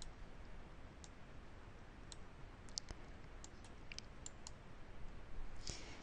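Scattered key clicks on a computer keyboard as numbers are typed into dental office accounting software, sparse irregular taps over a quiet room hiss, with a brighter cluster of clicks near the end.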